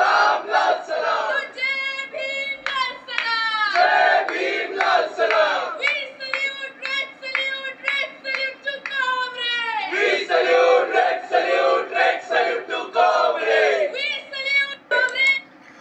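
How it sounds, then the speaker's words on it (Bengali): A small group of JNU students chants slogans on campus, voices rising together in loud, rhythmic call-and-response bursts with brief pauses between lines. "তো এই হচ্ছে তারা স্লোগান দিচ্ছে।"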